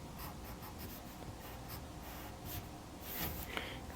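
A pencil draws the lines of lips on paper, making a run of short scratchy strokes, close and soft, in a quick uneven rhythm with no one talking.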